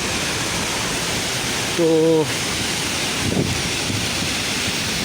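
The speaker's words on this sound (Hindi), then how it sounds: "छम का पानी बहुत ही तेज़ है और बहुत ही बड़ा है।" A large, powerful waterfall roars as a steady, dense wash of rushing water close by, with a voice speaking briefly partway through.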